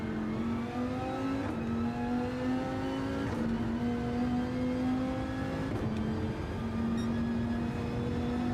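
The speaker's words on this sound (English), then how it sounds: "Wonder if I should let it rev to 4th on that straight." A race car engine in a racing video game on the Daytona Road Course climbs steadily through the revs, with several sharp gear shifts dropping the pitch before it winds up again; no one speaks over it.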